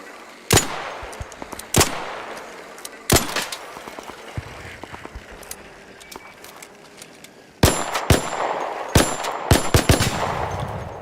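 Gunfire in the video game Arc Raiders: sharp, loud shots crack out singly and in quick clusters, with metallic clangs and ringing hits between them and a rapid volley near the end.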